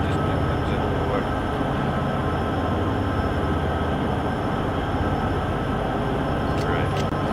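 A model train straining to climb a hill on a layout: a steady, dense mechanical motor drone and rattle that continues throughout, fairly loud and close, with a few faint clicks near the end and no clear voices.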